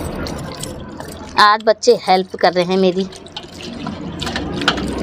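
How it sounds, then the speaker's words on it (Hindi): Water is poured into a hand to rinse fish for desi-style tandoori, a steady splashing flow heard under a voice talking. "थोड़ा हाथ में पानी डालो।"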